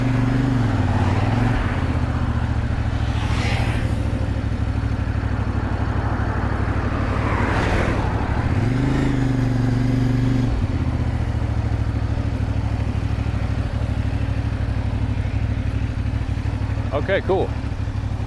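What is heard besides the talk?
motorcycle riding on a road in Mexico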